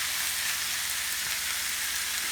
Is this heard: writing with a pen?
no